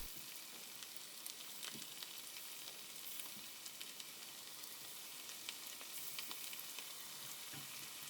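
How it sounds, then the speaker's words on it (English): Chicken pakoras in batter frying in hot oil, a steady close crackling sizzle with scattered sharper pops throughout, no voices. "Drop carefully into hot oil for around 5 minutes to give a crisp shell."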